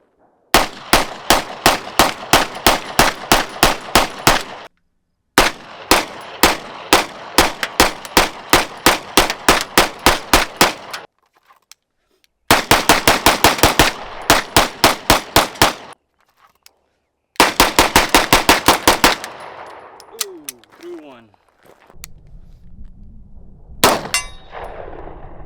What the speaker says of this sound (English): And I also took it out to like 80 or 90 yards and shot like a couple rounds there.